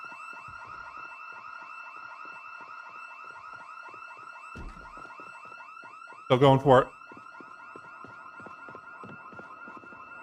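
A continuous electronic alarm wails in Project Zomboid, steady and layered across the whole span, while a voice speaks briefly over it and a loud burst of talk or shouting cuts in near the end.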